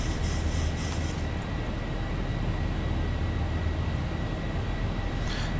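Boeing 737 airliner flying in the X-Plane 11 flight simulator, a loud steady engine roar with a deep low rumble and constant high whine, continuous throughout with no talking.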